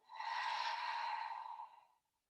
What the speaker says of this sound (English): Open mouth and exhale,